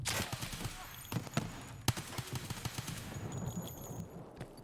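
Gunfire in Escape From Tarkov, a burst of sharp shots with several loud cracks in an uneven rhythm over steady game ambience, mostly alone with no talk.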